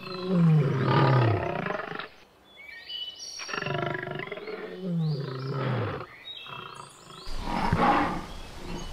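A male lion in the Tanzanian savanna roaring in a series of deep, heavy calls, each swelling then trailing into grunts, loud and fairly close, with faint bird chirps in the background between them.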